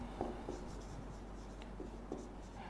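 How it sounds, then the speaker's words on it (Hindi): Chalk or marker scratches across a board during a physics lecture, with a few soft, brief strokes and taps against a quiet room background. "अब जब मैं लिखता हूं"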